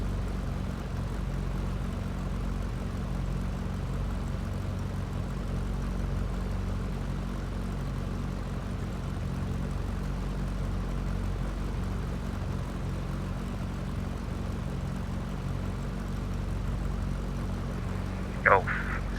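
A Ryanair airliner approaches Bristol in X-Plane 11 with a steady, low engine drone throughout, while a voice speaks briefly over the rumble near the end.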